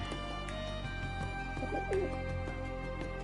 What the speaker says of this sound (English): And check out these pigeons.